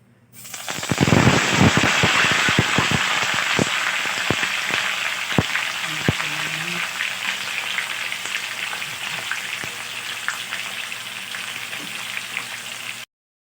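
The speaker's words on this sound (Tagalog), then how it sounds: "I-sear ko muna siya bago ko siya lutuin." A marinated whole chicken sears in a hot pan, a loud steady sizzle with crackling pops that burst thickly at first then settle into continuous frying, close and without talk.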